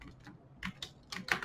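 Typing code on a computer keyboard, a few soft scattered key taps at close range over a quiet background, with no talking.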